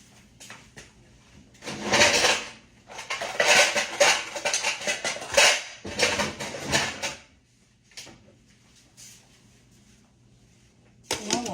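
In a home kitchen, a metal pot lid is lifted and pots and pans clank and scrape in several loud bursts, separated by quieter pauses and ending with one last clatter.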